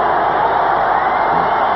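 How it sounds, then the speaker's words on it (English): Hockey arena crowd at the end of an LA Kings versus Detroit Red Wings game, a dense, loud, sustained roar of cheering and whoops that holds steady and swells throughout. "The crowd starts to rise."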